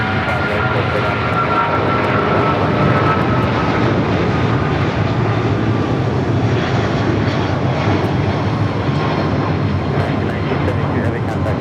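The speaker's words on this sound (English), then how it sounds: "Some awesome sounds coming from that 777" A Boeing 777 departing Los Angeles International Airport makes a loud, steady jet roar that fills the whole stretch without letting up, with faint radio chatter beneath it.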